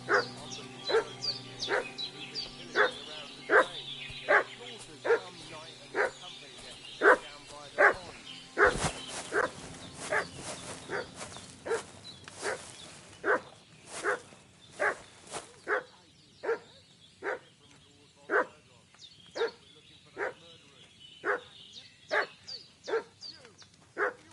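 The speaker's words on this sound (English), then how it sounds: "What's that dog making such a fuss about?" A dog in the video game Kingdom Come: Deliverance 2 barks repeatedly in a steady rhythm, sharp loud barks spaced about a second apart for the whole stretch, with faint background ambience behind them.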